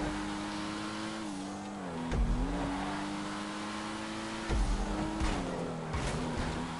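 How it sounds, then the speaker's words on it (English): A Pariah sports car engine in a racing video game drones steadily at high revs, its pitch dipping and climbing through shifts, with a few low thumps along the way; close, loud and continuous, with no talking. "I'm using the Pariah, and this thing should be classed as a supercar, but it's not."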